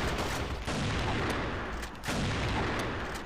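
Gunfire rattles through a round of the shooter game CrossFire in ghost mode: dense bursts and booms in rapid succession, loud and continuous, with no one talking.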